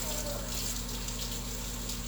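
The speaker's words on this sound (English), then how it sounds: "I'm actually going to rinse my ground meat separator" Tap water runs steadily into a kitchen sink, rinsing a ground meat separator utensil, a continuous even splashing hiss with a low hum beneath and no pauses.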